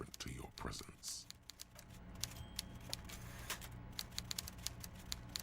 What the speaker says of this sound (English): Everard Clare clatters away on his typewriter, willfully indifferent to your presence